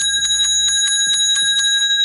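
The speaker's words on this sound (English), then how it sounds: "That's the Dallas Cowboys Salvation Army charity bell" A Salvation Army charity handbell rings rapidly and loudly up close, its bright metallic tones shaking in quick repeated strokes.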